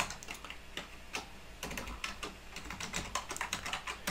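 A short test password is typed on a computer keyboard, with quick, uneven clusters of crisp key clicks and a few louder strikes, close and alone with no talk.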